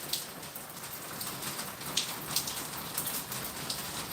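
Steady rain falls outdoors on a street, a dense even hiss of drops with scattered sharper spatters, moderately close and with no voices over it.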